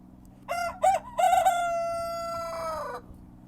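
A rooster in a backyard chicken coop crows once, loud and close, starting with choppy stuttering notes before stretching into a long held call that cuts off sharply.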